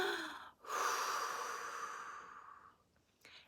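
A single deep breath drawn in and slowly let out, close and soft, a long airy exhale that fades, with a short faint breath at the end.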